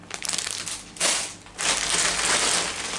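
A plastic bag of mixed salad is crinkled and crushed by hand, close and crackly, with a quieter opening stretch followed by two louder bursts of rustling.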